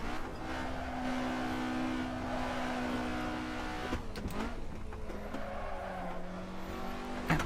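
Race car in an Assetto Corsa sim race held at full throttle through corners, a loud steady high-revving engine whine with a brief dip and gear change around midway, then climbing again, with faint tire scrub.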